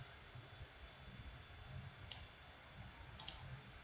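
Computer mouse clicks at a desk during game building in Scratch: two or three quick, light clicks, the last pair close together, over a low, quiet room hum with no voices.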